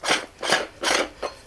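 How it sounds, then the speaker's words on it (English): Threaded plastic dome of a YoLuke 5MP PTZ WiFi security camera being twisted off its base, giving four rasping, ratcheting scrapes in a steady rhythm, close and clear with no talking. "so you just have to carefully twist, and then this unthreads"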